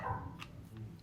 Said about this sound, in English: I have to apologize for our dogs. Sorry about that. They barked and barked and barked and barked.